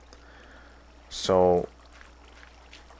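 Flowing water in Minecraft, a short burst of blocky game water noise lasting about half a second, loud against a quiet background, followed by a brief spoken word.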